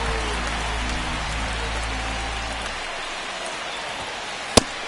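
Steady rain pours over the ballpark in MLB The Show 25, a dense, even hiss of drops with a low rumble that drops away partway through, then one sharp click near the end.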